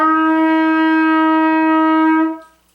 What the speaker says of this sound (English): which is our concert E flat. So the pitch sounds like this.